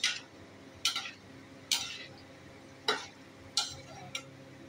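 Gulab jamun frying in oil are stirred in the pan, with about six short, sharp scraping strokes at a slow, even rhythm over a faint background sizzle.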